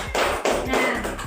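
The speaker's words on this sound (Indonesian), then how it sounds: "beri aplaus kepada Ananda Gina" A classroom of students applauding a classmate, a short burst of loud, dense clapping lasting about a second, close and steady with no talk over it.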